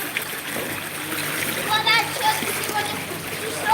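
A person comes down a water slide and splashes into a pool at a condo complex in Pattaya, Thailand, a bright rushing splash under outdoor chatter and children's voices.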